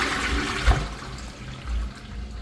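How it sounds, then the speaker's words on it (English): A toilet flushes after a blocked drain has been cleared, giving a loud close rush of water that gurgles and swirls, then settles into refilling flow. "Let's go back inside and give it one last flush."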